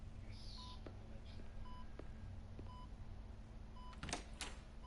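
In Batman: Telltale, a telephone number is keyed in as a short series of spaced dial-tone beeps, followed by a few sharper clicks near the end, all fairly quiet.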